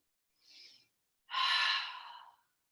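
During a yoga lunge with arms reaching overhead, a short soft inhale is followed by a longer, fuller breath out, both close and alone in a quiet room.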